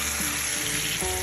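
Food sears in a hot pan on top of a stove with a loud, steady, close-up sizzle and crackle. The spitting continues without a break and no one talks.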